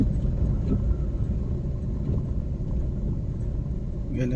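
A car engine rumbling while driving during a driving lesson, a steady low drone with road noise and people talking over it.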